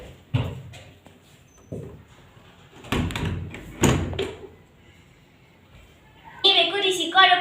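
A door is shut inside a house, with a few dull thuds scattered under nearby conversation in Minang, followed by a brighter clatter near the end.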